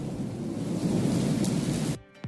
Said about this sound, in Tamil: சிங்கப்பூரில் வெளுத்து வாங்கும் கனமழையால் சாலைகள் வெள்ளக்காடாக காட்சியளித்தன.